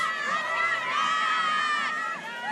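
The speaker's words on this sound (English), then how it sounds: "There's a huge crowd here tonight." A large crowd at a Friday night high school football game, Mill Valley vs St Thomas Aquinas, roars with sustained cheering and high-pitched youthful shouts, loud and continuous, easing slightly near the end.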